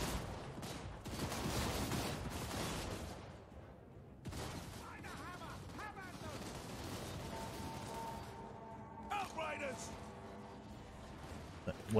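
Dense crackling rifle volleys and scattered gunfire from a Total War Warhammer II battle, continuous and rolling, with distant booms and a brief tonal game sound near the end.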